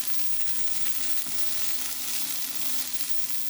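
Chicken sizzles and fries in a hot pan as it browns, giving a steady, dense hiss with faint crackles. It is close, continuous and alone, with no talking.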